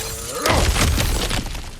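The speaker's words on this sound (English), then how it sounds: "back to smashing through things for fun and profit" Objects smashed apart in God of War Ragnarök: a loud, close shattering crash with a heavy thud, then scattering debris that quickly fades.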